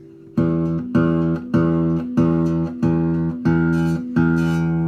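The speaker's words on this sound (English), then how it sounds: "Find your lowest note on the guitar it should sound like this." A guitar's low E string plucked repeatedly, about seven even strikes, each ringing briefly before the next, close and clear with no talking.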